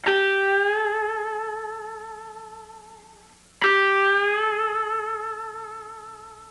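An electric guitar note plucked on the B string and bent upward in pitch, sustaining and fading, then picked again and bent once more.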